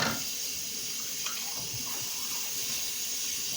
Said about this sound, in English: I know I'm talking over the water again.